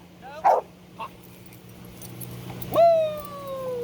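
A police K-9 dog barks in a few sharp, close bursts followed by a rising whine-like yelp, with low background hum in between.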